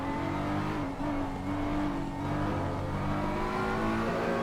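A BMW M4 race car in a racing video game strains through the corners at Oulton Park, its engine droning loud and unbroken with steady revving throughout.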